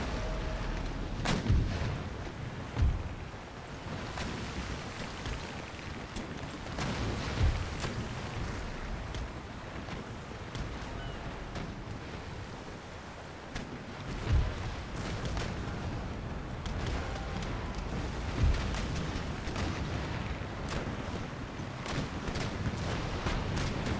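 Musket volleys and artillery fire from an Empire Total War battle crackle steadily at a distance, with heavier booming shots every few seconds over a constant rumbling din.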